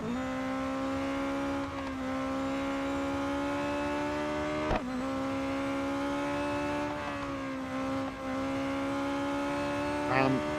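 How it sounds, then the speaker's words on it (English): Heavy braking of a race car in Real Racing 3, its engine droning steadily with pitch drops as it slows into corners, loud and close throughout. "I'm just not comfortable with this car around some of the corners, hence the heavy braking"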